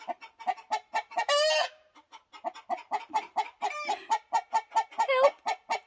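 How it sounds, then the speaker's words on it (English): A chicken clucks over and over in a quick, steady rhythm, close and fairly loud, with a couple of longer, strained squawks mixed in, outdoors in Alaska. "I caught a chicken!"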